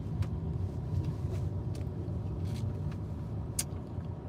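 A car driving on the road, heard from inside as a steady low engine and road rumble with faint ticks and clicks over it, continuous throughout.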